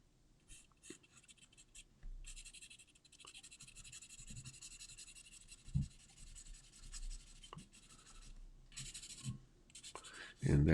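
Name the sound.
pencil drawing lines to map a horse drawing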